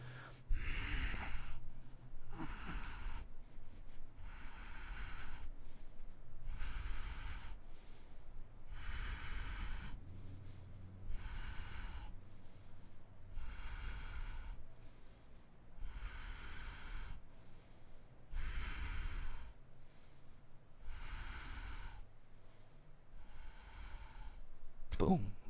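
Deep yoga breaths during a live flow class, drawn in rhythmic, even cycles of long, audible inhales and exhales, close to the microphone, with a little talk at the very start and end.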